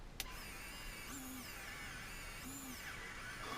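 A WPL RC winch running roughly, a steady mechanical whir with wavering pitch that rises and falls in two short surges, close and continuous with no talk.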